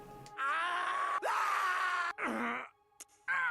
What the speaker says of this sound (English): I'm trying to decide how my death scream is gonna sound like